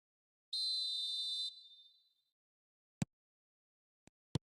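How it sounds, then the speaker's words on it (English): A referee's whistle in the eFootball 26 mobile game blows one long shrill blast and then fades, followed by a few sharp, isolated clicks in near silence. "There's the whistle."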